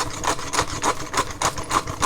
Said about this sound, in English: a few grinds of pepper